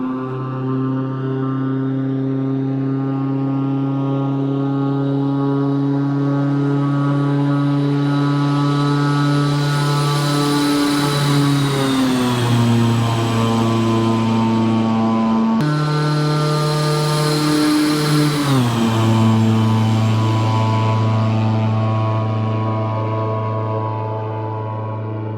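A King Air C90 twin turboprop in the X-Plane 11 flight simulator drones past loudly with a steady propeller hum. Its pitch drops clearly as it passes, the Doppler shift happens twice, and no voices are heard.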